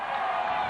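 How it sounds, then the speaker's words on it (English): Spectators cheering at a 1985 VFA Australian rules football match, a steady, distant roar of the crowd celebrating a point, filling the whole brief moment without breaks. "listen to that cheer, and you can tell that that was a point"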